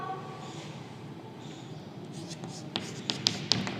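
Marker or chalk strokes on a classroom board during a marginal costing lesson, a few sharp taps and scratches near the end over faint room noise, with a teacher talking.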